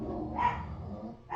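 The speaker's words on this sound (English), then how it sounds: "So now both dogs go" Two dogs barking indoors, a single faint, muffled bark over a low background hum, brief and distant.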